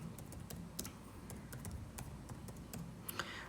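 Rapid clicking of keys on a computer keyboard while filling in an online form, an irregular stream of light taps up close with no one talking.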